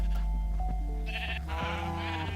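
Sheep bleating in Minecraft: a few short, nasal in-game bleats over a steady low game hum, close and clear with no one talking.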